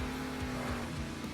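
The Bakugan monster truck in the video game Monster Jam Steel Titans 2 roars along with a steady, droning engine note and faint tire noise. It sounds continuous and fairly close, with no talk over it.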